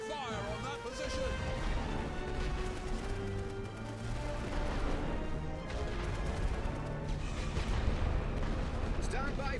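Artillery barrage in a Great War video game, with heavy booms and rumbling blasts rolling on continuously and loudly under battlefield noise and voices.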